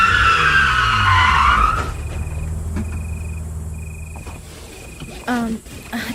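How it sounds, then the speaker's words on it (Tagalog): A car coming to a sudden halt on a road, a loud rising tire screech and skid in the first two seconds, then a low engine rumble fading under quieter background sound. "Bakit tumigil ang sasakyan natin?"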